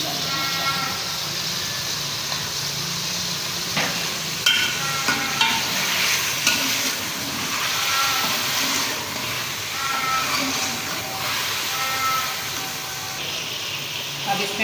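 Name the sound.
chicken frying in karahi with garlic ginger paste added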